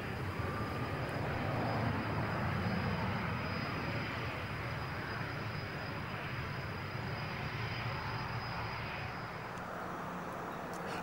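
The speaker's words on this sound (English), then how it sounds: "here is Jim Buckingham bringing the little Messenger into land on the grass airstrip" A small Miles Messenger light aircraft landing on a grass airstrip at an air display, its engine a steady, continuous drone throughout, with no talk.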